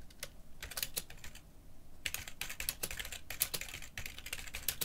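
Rapid clicking keystrokes on a computer keyboard come in bursts separated by short pauses, close and fairly quiet with no one talking.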